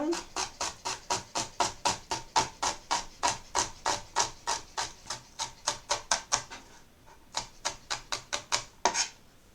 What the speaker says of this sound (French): So I'm going to cut this up nice and fine.